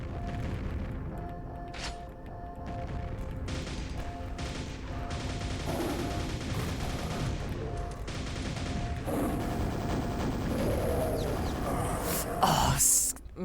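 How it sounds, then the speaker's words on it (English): Gunfire in Quake: Dawn of The Machine, a dense continuous barrage of game shots and booms with crunching impacts, loud and sustained, while someone talks over it. "Who is shooting that?"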